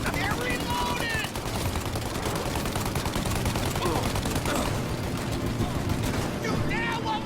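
Dense, loud gunfire fills a shootout in the video game Mafia, with overlapping rapid shots and bursts sounding continuously throughout, broken by brief sharp ricochet-like whines, while voices talk over the fighting.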